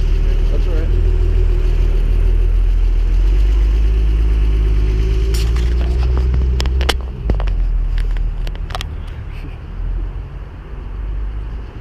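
Porsche 911 Turbo S engine on a test drive: a steady, loud low rumble that later grows uneven with clicks and shifts in tone, with voices talking inside the car.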